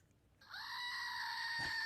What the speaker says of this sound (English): the Greek goat screams whenever we block a troll on TikTok or YouTube